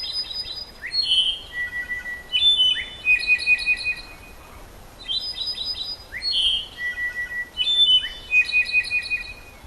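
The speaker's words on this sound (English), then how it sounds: "called a slate-colored solitaire with one of the most angelic voices in nature" Slate-colored solitaire singing in the Chiquibul forest, clear, pure whistled phrases with ringing, flute-like notes repeated in short bursts over several seconds, fairly close against a quiet forest backdrop.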